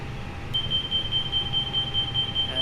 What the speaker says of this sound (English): And there's the proper alarm.